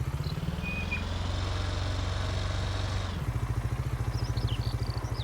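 Tractor engine in Farming Simulator 19 runs steadily while driving, a low continuous drone that shifts pitch about three seconds in, then settles into a throbbing idle-like pulse.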